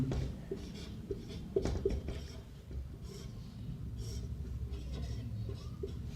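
Notes written by hand with a pen on paper, soft scratchy strokes in short bursts over a low background rumble, close and fairly quiet.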